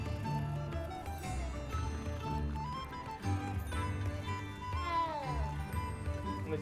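A cat in the video game Hogwarts Legacy meows a few times, its rising and falling cries heard over steady game music and ambience, moderately loud.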